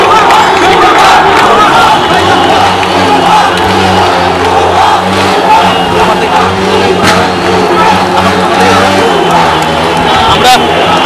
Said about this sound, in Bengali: তারা তাদের যে স্লোগান, সেই স্লোগান দিচ্ছে মুহুর্মুহু করতালে, হাতে জাতীয় পতাকা নিয়ে তারা স্লোগান দিচ্ছে